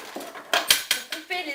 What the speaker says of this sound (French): on va prendre un petit couteau pour